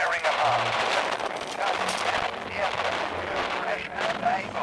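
Gunfire and artillery from the Radio General video game, set at Dieppe: dense, continuous battle noise with overlapping shots and booms at steady loudness, with a voice talking over it at times.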